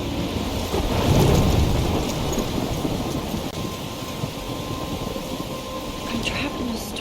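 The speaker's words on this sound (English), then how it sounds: "I'm trapped in a storm?" A thunderstorm in the video game Life is Strange: steady heavy rain hiss with a deep rolling thunder rumble that swells early on, then continues as a dense, even downpour.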